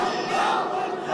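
Large crowd at an Islamic religious gathering roaring a takbir in unison, a dense, sustained loud shout with no gaps.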